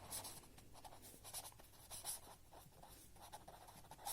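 Pen or pencil scratching across paper in quick bursts of strokes, close and fairly quiet, as notes are written during a Hindi-language history lecture on the Cold War; no voices.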